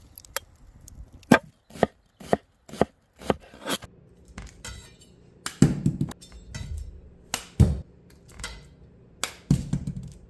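A not-so-sharp kitchen knife cuts through an onion on a board, giving a string of crisp, separate chops, irregular, close and loud, with pauses between strokes and no speech.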